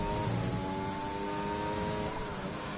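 Formula 1 race cars in a PlayStation racing game at the Italy round, engines droning steadily at high revs as cars run the track, loud and continuous with layered engine tones.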